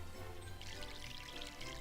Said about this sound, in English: Let's water this.